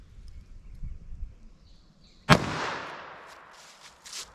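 A single sharp gunshot from a Remington .38 Special 158 gr semi-wadcutter round fired through denim and MDF, loud and close, with a decaying echo after quiet ambience and faint noises later.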